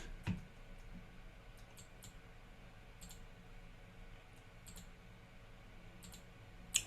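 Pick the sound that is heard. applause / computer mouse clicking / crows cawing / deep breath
computer mouse clicking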